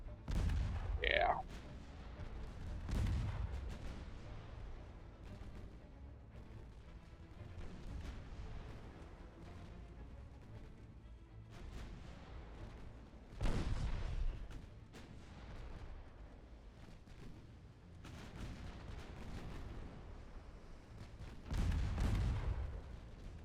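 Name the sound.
naval artillery firing in video game Ultimate Admiral Dreadnoughts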